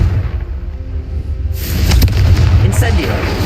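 A deep booming blast from the Confringo spell in the game Hogwarts Legacy erupts partway through, with a low rumble and crackling debris trailing off after a quieter lead-in.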